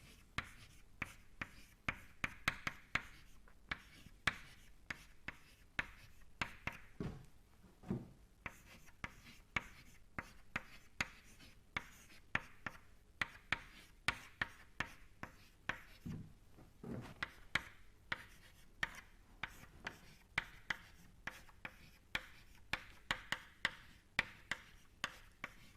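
Chalk or pen tapping and scratching steadily while an equation is written out in a lecture, a quick irregular string of small ticks and strokes, close and fairly quiet, with no talk.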